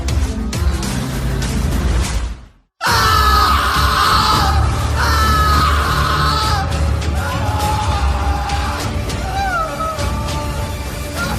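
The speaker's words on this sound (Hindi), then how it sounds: "पूरे माहौल में बस कौशिक की चीखें गूंज रही थी।" A man's screams of horror ring out for a horror story, loud and sustained with wavering cries over a dense, noisy backdrop, broken briefly by a moment of silence before the yelling resumes.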